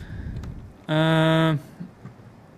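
Lightning spell striking enemies in the fantasy game Fictorum, a single loud, bright buzzing zap lasting about half a second, standing alone between quieter game ambience.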